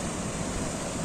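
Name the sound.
rough sea waves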